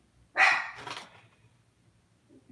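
A pet dog barks at someone at the door, two sharp close barks in quick succession followed by quiet.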